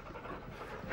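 A dog pants in short, quick breaths close by, one brief continuous burst with no voices.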